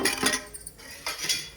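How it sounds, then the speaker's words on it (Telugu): A mortar pounds ivy gourd and green chillies with a few clinking strikes in quick, uneven succession. The blows are close and moderately loud, with no voices. "ఇలా ఒక్కొక్కటి వేసి దంచుకుంటున్నాను"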